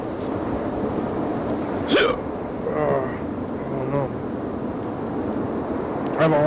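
Hiccups from someone who has just eaten spicy food, a few short sharp catches standing out briefly over steady background noise and low chatter.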